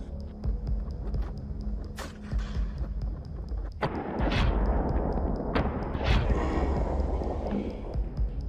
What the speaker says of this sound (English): A decisive gunshot rings out.